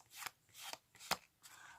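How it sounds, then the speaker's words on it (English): Overhand shuffle of a packet of playing cards on a card mat, a few quiet rasping riffles in short bursts, close and faint, with no talking. "Then you do an overhand shuffle to shuffle their cards to the top of the packet"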